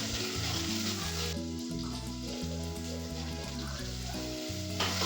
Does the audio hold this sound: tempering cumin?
yes